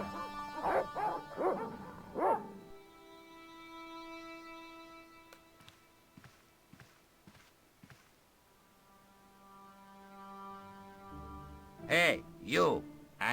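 Dogs bark in the Broken Sword point-and-click video game, a few sharp yaps mid-scene between spoken character dialogue, with a soft musical hum underneath.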